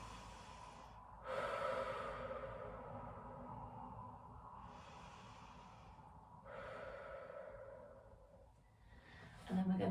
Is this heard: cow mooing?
no